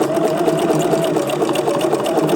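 A sewing machine runs steadily in continuous reverse, stitching backward along a strap for a paisley fanny bag, with a loud, even motor hum that carries through without a break.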